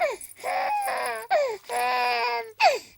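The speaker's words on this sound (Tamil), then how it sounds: "ராதா, குழந்தை அழுகுறா பாரு, சீக்கிரம் வாயேன்." An infant cries loudly nearby in repeated wailing bursts with short breath gaps between them, no other sounds over it.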